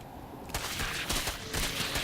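In a StarCraft match, a cannon fires on a pack of zerglings amid battle effects: dense rapid bursts of crackling shots that start abruptly and continue in waves, loud and close.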